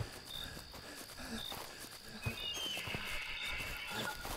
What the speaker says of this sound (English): I hear other footsteps besides my own